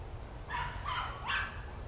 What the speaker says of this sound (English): I'm hearing dogs barking